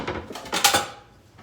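A bowl of quinoa and water being set into a microwave, with a few close clinks and knocks of dish against the interior, the loudest near the middle, then fading.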